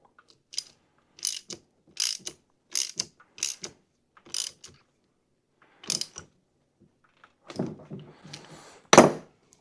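Ratchet clicking in short bursts, tightening a bolt on a Toro or Exmark zero turn mower's hydro pump, about nine close crisp clusters with pauses between, ending in a louder burst.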